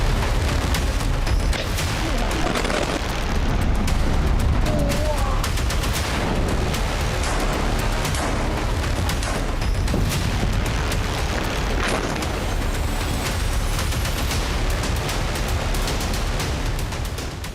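Continuous heavy blasts and booming from Israeli strikes using 400 tons of explosives to destroy a Hezbollah tunnel in Lebanon, a dense, loud roar of explosions and crackling impacts lasting throughout.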